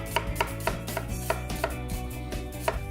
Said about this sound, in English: Get started on our onion. So we'll go in half and then we'll top and tail.